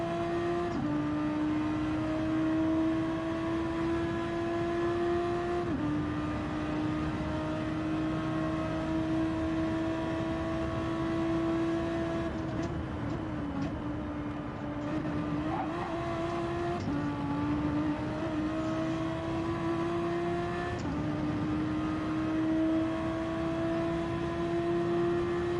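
Race car engine in a racing video game revving high through the gears, a steady droning whine that climbs in pitch and drops at each shift, repeating several times at moderate volume.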